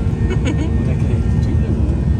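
Inside an airplane cabin during a flight, a steady loud engine drone fills the background while voices talk over it.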